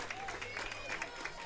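Spectators applaud with steady, scattered clapping at a girls' AAA high school rugby provincial championship in BC, a continuous outdoor crowd sound running under faint talk.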